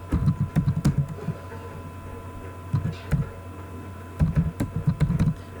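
Fingers tap out a search term on a computer keyboard in three quick clusters of close clicking keystrokes, separated by short pauses with a steady low hum underneath.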